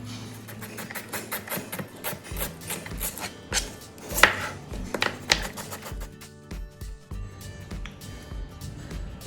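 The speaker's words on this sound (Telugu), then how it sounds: "ఇలా స్లైస్గా కట్ చేసుకోండి వీటిని." A knife slicing vegetables on a board for a budget chicken biryani, giving a fairly quiet run of quick, irregular chopping taps, close by and with no talk.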